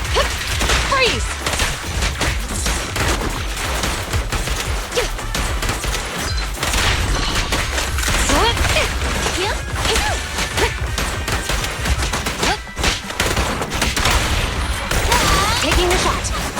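Rapid gunfire and crashing impacts from the Zenless Zone Zero video game, loud and dense over the whole stretch with bursts of shots, booms and hits, mixed with in-game voices and music.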